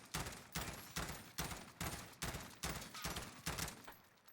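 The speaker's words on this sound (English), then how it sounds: "if I aim in here and start shooting, now this is an M16, it's a tactical rifle, it's a burst" An M16 tactical rifle fires in short bursts in the Warzone video game, about nine sharp, evenly spaced volleys of rapid gunfire in a steady rhythm, moderately loud with no talking.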